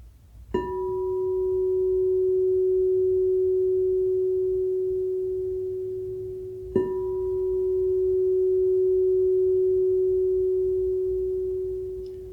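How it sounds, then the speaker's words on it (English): An 11-inch crystal singing bowl tuned to F sharp is struck twice, each strike blooming into a pure, steady ringing tone that sustains for several seconds with almost no decay before the next strike. "You can just play a little crystal bowl right there"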